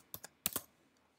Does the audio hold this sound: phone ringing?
no